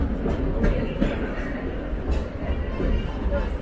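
The Disneyland Railroad train rumbles along its rails with a continuous low roll and occasional clacks and squeaks. A voice speaks over the running train throughout.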